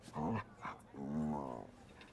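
A dog being petted in the video game Dragon Age The Veilguard lets out a short low grumble followed by a longer, drawn-out whining growl, close and fairly quiet.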